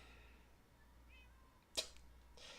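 Single short cat meow in Minecraft, brief and fairly clear over quiet game ambience, followed by a soft hiss-like noise.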